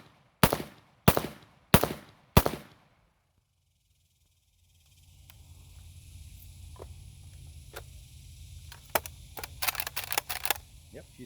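Four quick, sharp semi-automatic shots from a Kel Tec RDB bullpup rifle fired standing outdoors, followed by silence, then faint handling clicks and rustling with some background noise.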